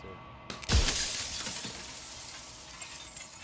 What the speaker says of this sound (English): another crack forms, and another, turning the mirror into jagged shards of broken glass